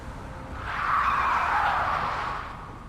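A getaway car pulls up in Splinter Cell Conviction, its engine and tires rising into a brief skidding screech that swells in the middle and fades, moderately loud over a low rumbling game background.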